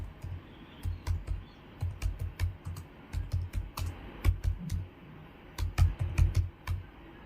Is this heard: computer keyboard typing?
yes